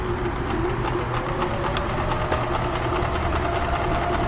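Kenmore 1350 sewing machine stitching a blind hem, a loud, close, fast rhythmic mechanical whirr with steady clacking pulses running continuously, no voices.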